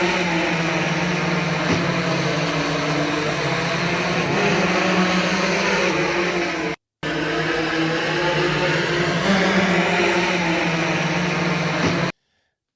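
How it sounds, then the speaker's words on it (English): An Amazon delivery drone in Texas flies with a loud, steady propeller whine and buzz, running continuously apart from one brief dropout, then cutting off at the end. "It says it's in Texas, and this is an Amazon drone delivery."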